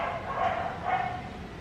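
Dogs barking indoors, two muffled barks in quick succession at moderate distance, with no speech over them.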